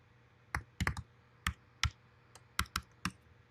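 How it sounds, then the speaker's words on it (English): Single keystrokes tapped on a computer keyboard while entering a password, sparse and irregular with pauses between presses, close and clear over a faint steady hum, no talking. "And then I'm typing the password."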